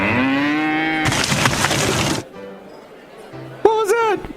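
A cow lets out a long, loud moo at close range. A sharp burst of noise cuts it off, and a quieter, rising moo-like call follows at the end.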